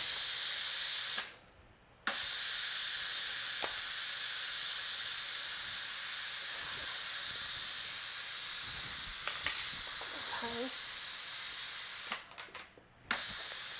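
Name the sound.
Instant Pot releasing steam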